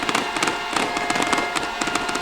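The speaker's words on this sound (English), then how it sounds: "Beautiful fireworks going off as they come away with a big win." Fireworks bursting in celebration after a high school football win, a rapid string of sharp crackling pops and bangs over crowd noise at the stadium.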